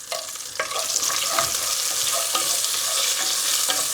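Bay leaves, cardamom pods and a broken cinnamon stick sizzle steadily in hot oil, a bright continuous frying hiss with occasional stirring scrapes and taps.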